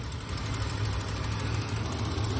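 An RV engine runs on a test drive, a constant loud low rumble with steady vibration throughout and no voices.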